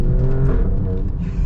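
An Alfa Romeo Stelvio Quadrifoglio performance SUV engine revving up and down through gear shifts, a close, loud, throaty drone with brief dips and swells between shifts.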